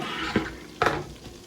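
Spicy chicken tenders frying in hot oil in a home kitchen, a steady close sizzle broken by two brief louder bursts of crackle or stirring, with no one talking.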